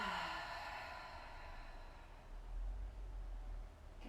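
A slow, deep exhale through the mouth during yoga breathing, a soft, breathy whoosh close to the listener that fades out into quiet room tone.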